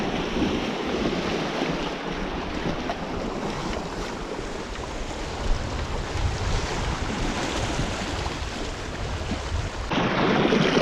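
Fast tidal current rushing through shallow coastal water during a small tide, a steady broad wash heard alone with wind buffeting the microphone throughout.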